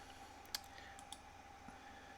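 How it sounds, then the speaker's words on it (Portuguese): A computer mouse clicks twice in quick succession, two faint crisp ticks over a quiet electronic hum, followed by a softer stray click. "eu vou clicar 2 vezes"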